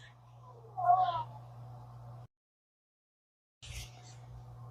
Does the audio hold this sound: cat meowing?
yes